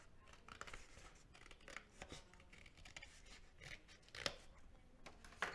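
Scissors snipping along a line in a paper pop-up card, a steady series of quiet crisp cuts and rustles close by, with no talking.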